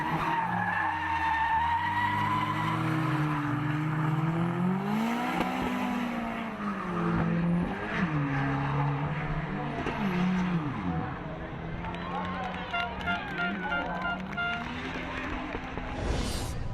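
Drift cars battle on a racetrack in a semi-pro final, among them a green Nissan S13 with a BMW V8, engines roaring and tyres skidding continuously and loudly, with an announcer talking over the noise.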